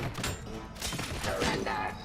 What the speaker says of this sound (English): Grenade launcher. I haven't used one of these yet.